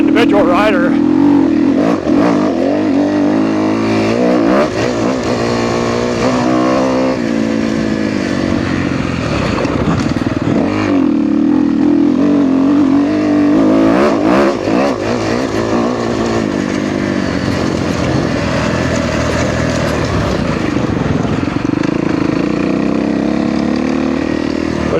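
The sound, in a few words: 2013 Kawasaki KX250F dirt bike engine during test ride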